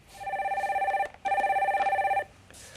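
A telephone rings for an incoming call-in on a Korean stock market broadcast: two long trilling electronic bursts with a short gap between them, clear and fairly close, with no talk over them.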